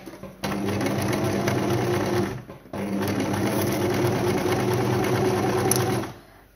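A domestic sewing machine runs steadily while stitching fabric for a small pin cushion, two close, continuous whirring bursts separated by a brief pause, with no talk.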